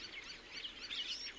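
Assorted birds calling near farm water reservoirs in Africa, light overlapping chirps and tweets, fairly faint and distant, with no voices.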